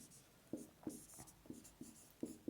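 A pen writes out a last line of text, with short, close scratching strokes in a quick irregular rhythm, quiet and alone with no talking.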